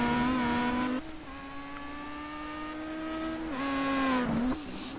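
A Star Mazda race car on a circuit, its engine note a loud, sustained tonal whine that holds steady, dips briefly as it shifts, then climbs again before fading, heard alone without voices.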